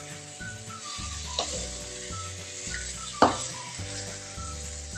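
Lime-juice-marinated chicken pieces sizzle and crackle steadily as they fry in a hot pan, a dense continuous hiss punctuated by a couple of sharper pops, close and fairly loud with no talking.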